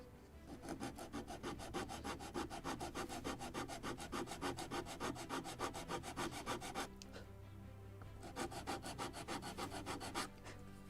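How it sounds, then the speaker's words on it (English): Steady rhythmic sanding strokes on the wooden hull of a Model Shipways kit model of the 1776 gunboat Philadelphia, close and continuous with one brief pause, no talking. "I need to sand precisely the first one, so I need to sand this belly a little"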